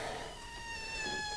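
Noodle the cat gives a single drawn-out meow, close and clear, wavering slightly in pitch over a quiet room with no talk.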